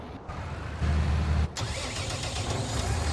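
A tractor engine in Farming Simulator 19 cranks and catches, then a low steady rumble settles into a close, continuous idle with no voices.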